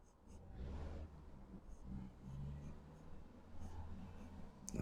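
A Sheaffer No Nonsense fountain pen scratches runic letters onto paper in short, close strokes with brief pauses between them, soft and alone.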